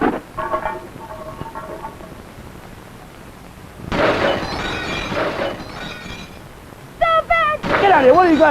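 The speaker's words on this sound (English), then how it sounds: "Think we had enough problem breaking up glass around here?" Glass shatters with a bright crash in a cartoon-like scene, set between short bursts of shouting, with further clattering breakage near the end over ongoing voices.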